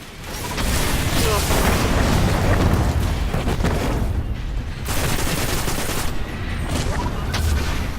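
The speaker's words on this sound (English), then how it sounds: "I probably will use rockets on it just to make sure that I get it killed in time." Rocket launcher blasts and heavy gunfire in the video game Destiny, during a solo run of the Crota's End raid; dense, loud explosive booms roll continuously with brief dips, set against constant battle noise.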